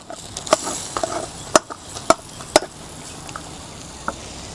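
A spoon stirs tomatoes into mutton karahi in a pan, giving sharp, scattered clanks and scrapes at an uneven pace over a soft, steady background hiss, with no talking.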